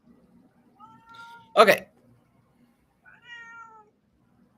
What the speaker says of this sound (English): Oh, I hear your cat.